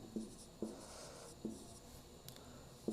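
Pen strokes scratch on paper during a Class 10 trigonometry lesson, a few soft, separated writing sounds with sharp starts, close and quiet, no voices.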